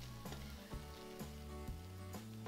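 Bubbly foaming slime is stirred, giving a faint wet fizzing and crackling, with soft periodic squelches from the stirring at a slow, even rhythm, close by.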